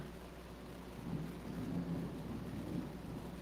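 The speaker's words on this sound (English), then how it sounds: "Oh, we're getting a big storm again" Summerwells game thunderstorm: steady rain hiss under a low, rolling thunder rumble that swells in the middle, with no talking.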